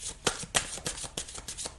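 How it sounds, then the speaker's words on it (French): Playing cards shuffled by hand at close range make a rapid series of crisp riffling bursts, about seven in under two seconds, with two sharper snaps early on and no speech. "pendant que je bats les cartes"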